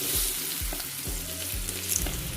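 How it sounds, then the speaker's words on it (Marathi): Banana slices fry in ghee with golden cashews in a pan, giving a loud, constant sizzle broken by regular scraping strokes of stirring, with no voices. "आता ह्याच्यामध्ये केळ्याचे काप घालूयात"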